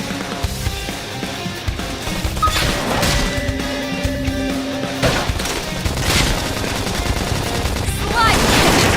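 Rapid bursts of automatic gunfire in the sci-fi video game Xenoblade Chronicles X, dense repeated shots and impacts crackling over game music, with brief game voices mixed in.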